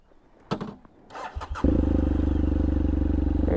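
A motorcycle engine cranks briefly after some handling noises, then catches and settles into a steady, loud, close idle.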